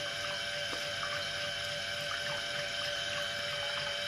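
A crude home-made 220 V 50 W heating-oil pump runs with water flowing through it, giving a steady, even hum and rushing wash that stays constant throughout.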